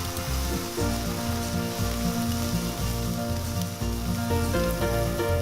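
Thin slices of pork for Japanese ginger pork shogayaki frying in a pan, giving a steady, dense sizzle close by with music playing underneath throughout.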